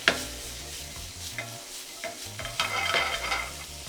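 Chaufa fried rice is tossed in hot aromatized oil in a pan being pushed to smoke, giving a close, loud crackling sizzle broken by repeated scraping stirs, with no talking.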